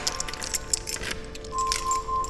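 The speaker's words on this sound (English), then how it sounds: "As they approached their room, Sarah fumbled with the keys" Keys jangle and clink at a hotel room door, a short bright rattle close up, fumbled in bursts over a faint background hum.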